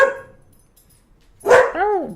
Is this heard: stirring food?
no